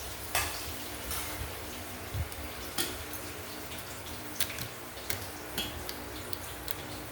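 Food fries in coconut oil in a pan with a soft, continuous sizzle and occasional faint clinks and scrapes of a utensil against the pan, close by and without speech.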